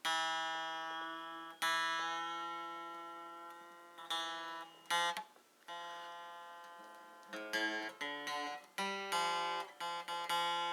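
A guitar's G string plucked again and again, each note ringing out and decaying, with slight pitch shifts between plucks as it is brought into tune.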